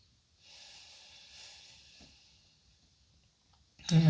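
A slow, deep breath during a gentle yoga twist: a long, soft airy exhale drawn out over a couple of seconds, close and quiet, followed by a sudden louder rustle at the end.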